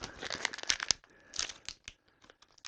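A scrap of shiny VViVid vinyl wrap film crumpled and wadded up by hand, giving close, crisp crinkling and crackling bursts that come in quick clusters, then thin out into a few sparse crackles.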